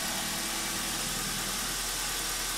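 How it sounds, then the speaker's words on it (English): BMW N42/N46 four-cylinder petrol engine idling just after a timing chain replacement, a steady even hum heard up close with no speech. "the engine started right up"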